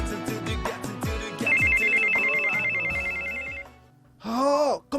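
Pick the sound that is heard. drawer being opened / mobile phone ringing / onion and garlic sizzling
mobile phone ringing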